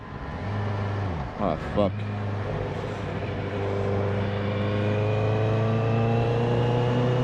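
A car drives past on a city street, its engine rising and fading under a steady hum from the recording rider's idling motorcycle, with a brief exclamation from a man partway through.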